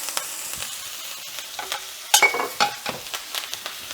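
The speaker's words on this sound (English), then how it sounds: "we'll add our butter, garlic, and thyme" Butter, garlic and thyme sizzle in a hot cast iron skillet beside a NY strip steak, a steady frying hiss broken by several sharp, close spattering pops and crackles.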